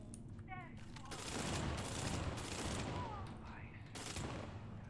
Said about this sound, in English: Shooting at me with the stun gun.